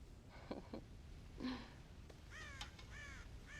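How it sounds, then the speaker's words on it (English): Crows raid a corn silo in Red Dead Redemption, giving several harsh caws in quick bursts, moderately near over a quiet background. "God damn crows!"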